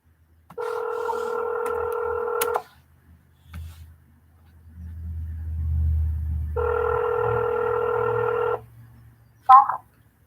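Telephone call tones sound during a live cold call. Two long, steady electronic tones of about two seconds each are separated by a low rumble, and a short final beep follows. No one speaks.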